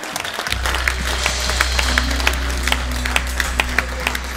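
A church congregation applauds together, a dense wash of clapping that stays steady and full for several seconds over a low organ-like drone, with no voices standing out.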